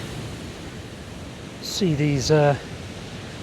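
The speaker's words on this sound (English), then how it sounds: "waves crashing up over the bit of esplanade here in Ventnor" Waves crash over the esplanade at Ventnor on a mid-November afternoon: a steady, broad surf roar fills the whole stretch, while a person speaks briefly near the end.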